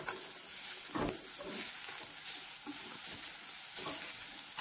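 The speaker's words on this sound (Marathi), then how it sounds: "आणि आता खोबरे आणि तीळ घालत आहे. मस्त असं परतून घ्यायचं आहे आपल्याला." Grated coconut and sesame seeds being sautéed in a pan: a soft, steady sizzle with occasional scraping stirs, close and moderately quiet, no talking.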